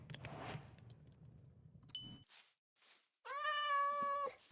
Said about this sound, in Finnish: Arvaa tuli kissa.